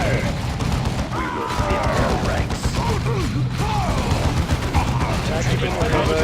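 Space Marines firing their guns in the video game Dawn of War 2, dense rapid gunfire and booms layered with battle noise and shouted unit voices, loud and continuous.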